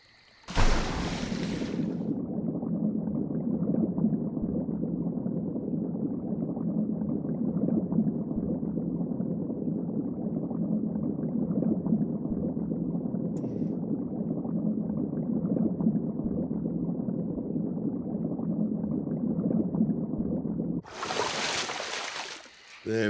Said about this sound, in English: Let's try a river jump, shall we, guys?